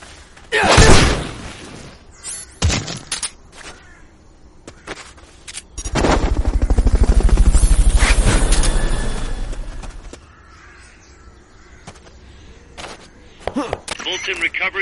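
A helicopter in the PSP game Metal Gear Solid Peace Walker during a Fulton recovery gives a rhythmic rotor chop that swells and fades over several seconds, amid sharp in-game bangs and impacts.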